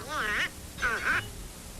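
Two nasal, raspy quacks from a cartoon duck, each about half a second long, close and clear with a short pause between them.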